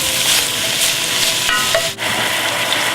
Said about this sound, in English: now we're adding the beef, 3/4 of a pound, and we're going to cook that until there's no longer any redness to it